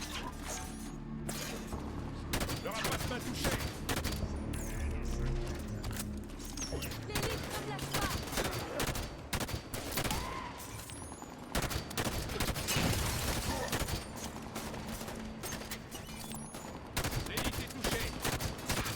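Sustained gunfire bursts and clattering weapon mechanisms in Halo 5: Guardians combat, with dense explosive impacts over roughly twenty seconds and game voices mixed in underneath.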